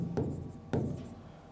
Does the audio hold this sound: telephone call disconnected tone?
no